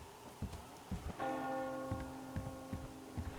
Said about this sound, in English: Do you hear that bell?